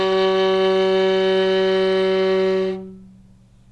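A viola sustains a single F sharp played with a high third finger on the C string, a steady, loud, bowed tone heard alone that cuts off abruptly near the end.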